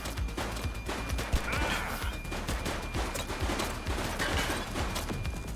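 Gunfire crackles through a shootout in the video game The Precinct, dense rapid shots and bursts running steadily throughout under a busy, noisy mix.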